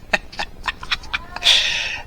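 A pet cat makes a rapid run of short, sharp meows, about six in quick succession, then one longer raspy cry, all close by in a quiet room.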